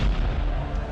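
Heavy cannon fire from a Venetian bombardment of the Parthenon booms as a dense, rumbling low-heavy barrage, loud and continuous with no talk.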